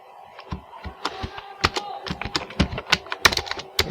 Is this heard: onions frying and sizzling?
no